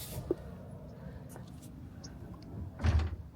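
Car doors on a Rivian being opened, a few soft clunks and latch sounds, one near the start and a louder burst near the end, with faint background noise and a voice speaking.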